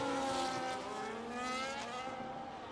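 Formula 1 cars racing wheel to wheel at the Azerbaijan Grand Prix in a video game, several high-revving engines whining loudly and continuously with rising and falling pitch as they pass close together.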